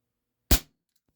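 Single sharp report of an air rifle firing a heavy H&N Baracuda pellet, a sudden close crack that decays in a fraction of a second, followed by silence.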